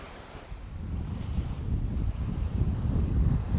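Sea waves rolling onto a beach on Sal, Cape Verde, a steady rushing surf swelling gradually louder, mixed with wind buffeting the microphone, no voices.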